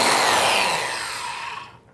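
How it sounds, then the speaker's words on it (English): A power tool plunges into a wooden board on a fence to cut a woodworking joint, a steady loud whine that fades and drops off as the cut finishes, with no talk. "pull the trigger, and plunge the tool in"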